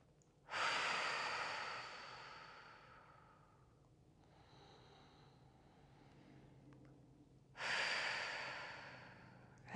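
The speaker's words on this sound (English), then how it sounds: "2 short inhales through the nose, and then a long exhale at the mouth" Breathing exercise in a therapeutic yoga session: two loud, close bursts of exhaled breath, the first drawn out over several seconds, the second starting near the end, with quieter nasal inhales between them and no talk.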